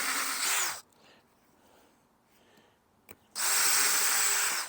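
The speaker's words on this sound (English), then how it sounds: "So you just put that right in the center, and that drills a hole for each screw" A centering bit drills screw holes for a door hinge, two loud, steady whirring bursts of a power drill at the start and end with a quiet pause and a faint click between.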